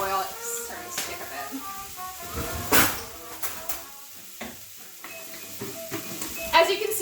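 Rice cooking in oil, with a low sizzle broken by scraping, clattering stirring strokes and a few sharp knocks. A person talks over it in places.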